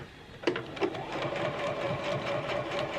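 A sewing machine stitches a quarter-inch seam in a scrap of fabric, a continuous fast mechanical whir with a rapid needle rhythm, close and steady after a couple of brief clicks at the start.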